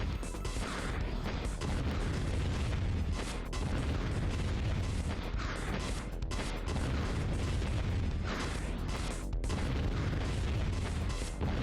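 Homing missile explosions in the video game Ocean Commander, a continuous barrage of dense, noisy blasts and rumbles in repeated waves with brief gaps.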